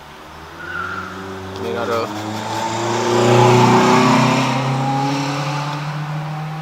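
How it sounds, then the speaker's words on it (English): A Honda car drives past outside, its engine rising from faint to loud as it nears, then easing off, with a person talking briefly over it. "there's always that one Honda that drives by"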